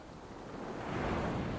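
Calm ocean waves wash in a steady, soft hiss that swells gently toward the end, with a faint breeze over the water.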